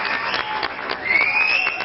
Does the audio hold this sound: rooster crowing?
no